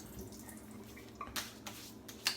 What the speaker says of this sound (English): Wet my face.